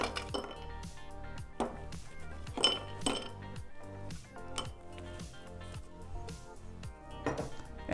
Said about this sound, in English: Now add fresh ice in our glass.